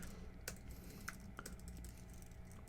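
Light, sparse typing on a computer keyboard, a few distinct keystrokes tapped out at an uneven pace, close and quiet.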